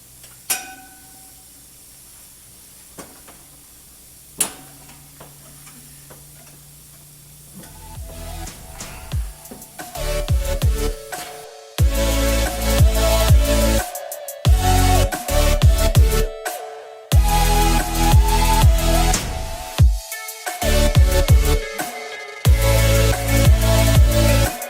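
A Harbor Freight powder coat gun sprays powder onto heated Cummins engine metal, bursts of loud hissing with short gaps between them, after a quiet stretch with a few faint clicks.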